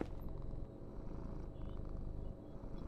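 A bunker cat in the VR game Ghosts of Tabor purrs steadily and softly, a low continuous rumble with gentle rhythmic pulsing and no talk over it.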